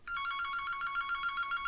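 A telephone rings in a podcast studio with a fast, trilling bell that repeats steadily and evenly at a moderate, clear level, with no voices over it.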